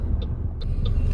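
Road traffic around a car on the way to Kamay ni Jesus in Lucban, Quezon: a steady low engine rumble throughout, with faint brief squeaks or brake hisses above it, no talk.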